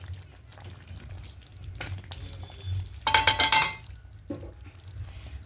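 Aloo phulkopi curry (potato and cauliflower with ghee and garam masala) is stirred in a pan with the gas off, giving soft scraping and clinks that rise into a brief, busy burst of clatter midway.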